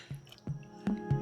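A vacuum-sealed sous vide bag is lifted out of a water bath, shedding a few distinct drips and wet squishes at irregular intervals, close and fairly quiet over a low steady hum.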